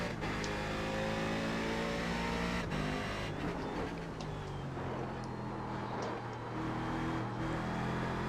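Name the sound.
race car engine accelerating in the video game iRacing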